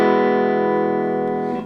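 An electric guitar holds a single sustained E note through an amp's overdrive channel, a thick distorted tone that rings loud and steady before beginning to fade.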